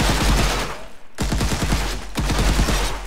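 A full-auto rifle in the FPS Game Starter Kit video game fires loud, rapid bursts of gunshots, with one brief pause before the rattling fire resumes.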